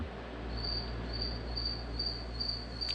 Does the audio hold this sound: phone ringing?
no